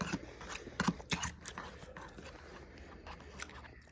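Quiet close-up chewing of jerk chicken with rice and peas, a few soft crunchy bites and mouth clicks clustered early, then faint, sparse chewing noises.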